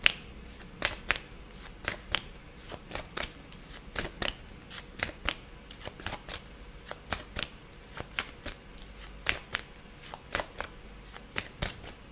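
Tarot cards are drawn and shuffled by hand at close range, giving a crisp run of riffling snaps and slaps in an uneven rhythm, with no talking.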